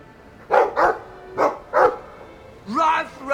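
A dog in the video game Dragon Age 2 gives four short, clear barks in quick pairs, followed by a longer, wavering yip-like whine.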